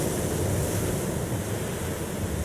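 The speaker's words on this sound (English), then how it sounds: "Ocean waves." Steady roar of ocean waves and surf from the 2010 film Inception, a continuous broadband wash with wind-like rush, no distinct breaks and no voices.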